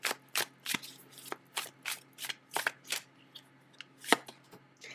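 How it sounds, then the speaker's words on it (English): A tarot deck is shuffled and cards are pulled, giving a run of crisp riffling snaps and slaps in uneven bursts, close and fairly quiet, with no talking. "So I'm going to pull a different tarot."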